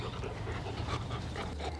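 A dog named Bouncer pants steadily close by, a breathy rhythmic huffing with faint whimpers, and no voices over it.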